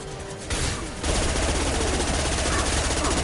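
Rapid automatic gunfire in the video game Mass Effect 2, a dense, loud burst of shots starting after a brief lead-in and continuing unbroken to the end.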